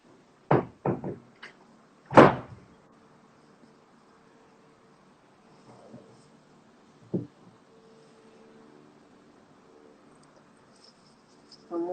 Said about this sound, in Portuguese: Só um minutinho que eu vou fechar aqui a porta.